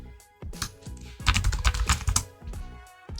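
Computer keyboard typed on in quick close bursts of crisp key clicks, a short run of rapid strokes, a pause, then a few more taps, with no talking.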